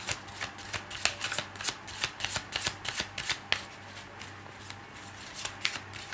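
Tarot cards are shuffled by hand in quick repeated riffles, each a sharp papery burst of flutter, spaced in an irregular rhythm close to the microphone without any talking.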